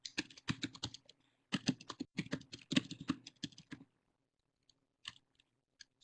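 Rapid typing on a computer keyboard, close and clear, in quick bursts of keystrokes with brief pauses, then a few isolated taps trailing off into near silence.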